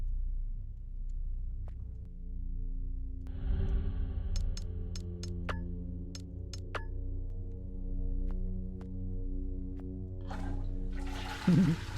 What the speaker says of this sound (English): Flush the toilet.